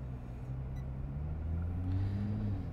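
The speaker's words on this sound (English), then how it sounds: "I'm here to show you for a lap around in the Nissan GT-R" A Nissan GT-R laps the Cadwell Park circuit, its engine a low, steady rumble that builds slightly as it pulls, heard from inside the car with no talking.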